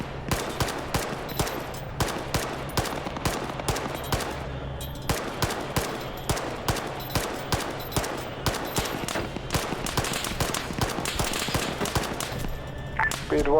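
Video game gunfire in Arma 3 during an urban battle, rapid bursts of automatic fire and single shots cracking repeatedly throughout, dense and loud, with a brief electronic tone near the end.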